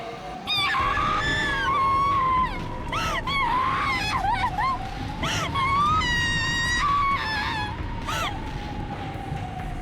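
Jessica screams in the Umineko visual novel game, a long, wavering female wail with rising and falling shrieks over a loud, constant rumbling background.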